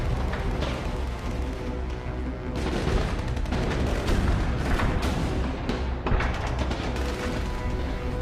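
Enemy gunfire aimed at a burning motor launch during a naval raid, a dense continuous barrage of cracks, booms and rattling bursts, loud and sustained throughout.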